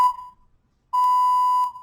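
A workout interval timer gives a short electronic beep, then after a pause a longer steady tone of about three quarters of a second, clear and loud in a quiet room.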